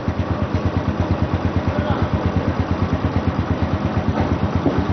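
A motorcycle engine idles steadily close by with a fast, even putter that holds throughout.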